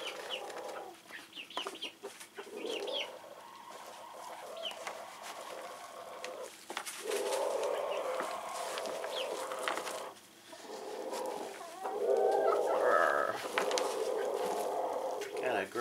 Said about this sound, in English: Got a grumpy chicken back there.